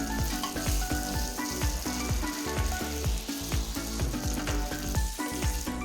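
Steamed flattened rice mixture is stirred in a hot pan, giving a continuous loud sizzle broken by regular scraping strokes of a spoon or spatula, close and with no talking.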